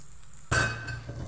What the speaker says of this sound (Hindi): अब हम डालेंगे अपना पोहा जो हमने यहाँ पे धो के रखे हुए थे